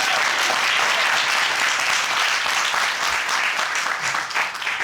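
Studio audience applauding loudly and steadily for a pair of guests on a daytime TV show, a dense continuous wash of clapping that barely dips before a slight fade at the end.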